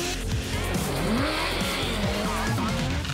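A light 300-kilogram race car with 170 brake horsepower at the wheels driven hard, engine revs rising and falling with tire squeal and skidding under continuous racing noise.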